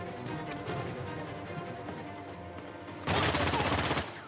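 Powerful gun in the video game Uncharted 4, a loud, dense burst of rapid gunfire that erupts suddenly after a quieter stretch of game noise and lasts about a second.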